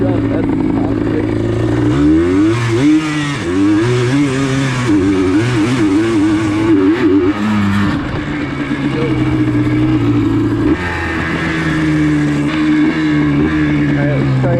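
A Yamaha Blaster ATV engine climbs a hill, its loud revving pitch rising and falling through gear changes, near and continuous, with a person talking over it at times.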